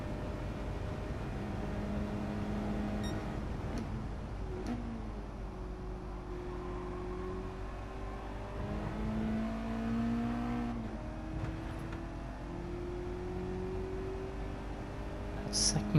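A Mazda NR-A race car engine drones and revs in a racing game, pitch climbing and dropping through short gear changes at moderate, steady volume for the whole stretch.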